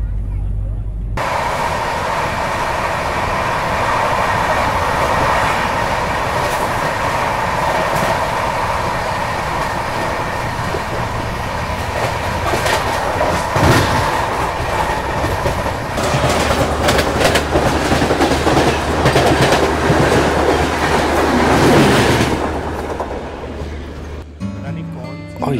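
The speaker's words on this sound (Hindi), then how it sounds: "और ये जो शताब्दी थी ना, मेरे ख्याल से चंडीगढ़ शताब्दी होगी, क्योंकि उसी का टाइम है क्रॉस होने का।" The Chandigarh Shatabdi Express rushes past on the rails beside a moving train, a loud continuous roar with rhythmic clickety-clack that swells near the end and then cuts off.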